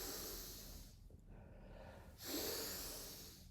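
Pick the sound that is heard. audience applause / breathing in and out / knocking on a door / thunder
breathing in and out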